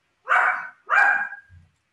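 A dog barks twice in quick succession, loud and close, followed by a short low grumble, with no talking over it.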